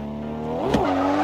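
A car drifting in a drift racing video game, a steady engine drone that rises briefly into a whining rev and tire squeal around the midpoint, then settles back to a sustained tone.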